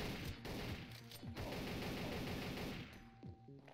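AK-47 bursts in the top-down shooter Geneshift, loud rattling gunfire with sharp impacts and crashes, easing off toward the end amid game sound effects.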